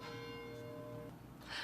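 Church bells ring steadily in the background, a faint sustained metallic toll with lingering overtones, no voices over it.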